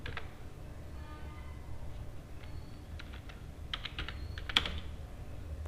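A computer keyboard is typed on in short bursts of key clicks, fairly faint over a low background hum, with no voices.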